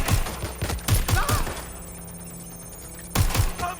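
Gunfire in the video game Watch Dogs Legion: rapid automatic bursts of close, punchy shots, then a short lull and another burst at the end.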